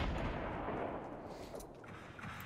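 Rocket launcher and guided missile fire in Fortnite squad gameplay: a dense, rumbling blast of explosive weapon fire that fades into a lower, rolling roar.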